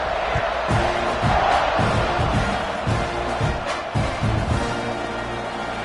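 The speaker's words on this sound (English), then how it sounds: "this crowd is buzzing after that last score" Stadium crowd at a University of Oklahoma Sooners football game roars and buzzes after a touchdown, a loud continuous wash of cheering with scattered shouts and thumps throughout.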